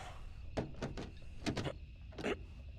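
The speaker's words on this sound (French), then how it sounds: "Taylor, la porte est coincée." Door in the video game Little Hope being tried while stuck, giving three bursts of rattling thuds followed by a pair of knocks and one final jolt. The sounds are moderately loud over a low ambient hum, with no voices.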